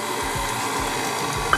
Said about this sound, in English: So let's measure out that right into the mixer. And we're just gonna turn that on and blend it up for just a hot second.